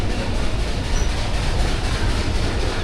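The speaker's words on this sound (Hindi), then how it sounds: "ट्रेन हमारी मूव होना शुरू हो गई है।" Steady low rumble of the 13 UP Awam Express train beginning to roll out near Taxila, a continuous mechanical drone with faint rail noise and no voices.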